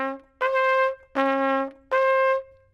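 Three sustained low D notes on a trumpet played without the slide, sounding flat and out of tune, each held about half a second with short gaps, clear and close with no talking.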